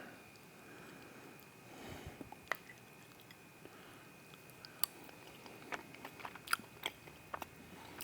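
Someone chews freeze-dried chili meat up close, with soft biting then a run of small crisp crunches that grow more frequent, quiet and without speech.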